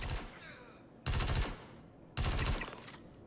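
Gunfire in the Star Citizen video game: two loud bursts of rapid automatic fire, each about half a second, break through quieter background noise near the start and middle, with no speech over them.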